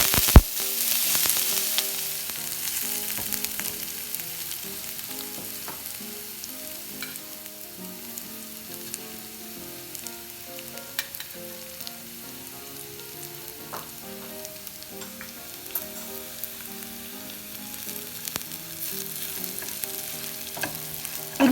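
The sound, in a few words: chili flakes frying in a pan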